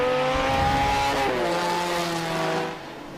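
An MG sports car in a Group S sports car race takes a corner, its engine note loud and sustained with rising and falling pitch as it passes close by, then fading slightly at the end.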